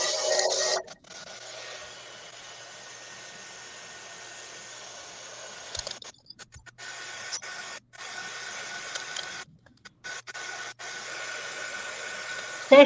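A drying tool blows a steady, even hiss onto a freshly stamped image, broken by several short stops and restarts, with nobody talking.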